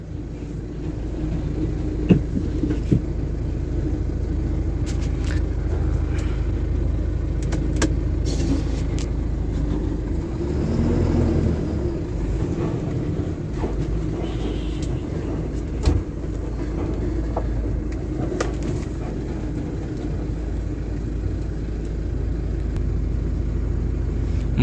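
Vehicles pass on a forest ghat road at night, a continuous heavy engine rumble that swells and eases as they go by, with a few faint knocks and no voices.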